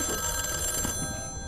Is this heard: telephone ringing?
yes